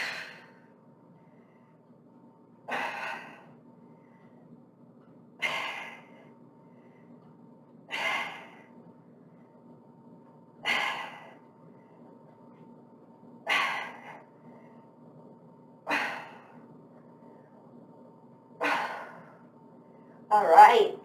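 Forceful exhales during an exercise workout, eight sharp breathy bursts at a steady pace of roughly one every two and a half seconds, close and clear over a faint low hum.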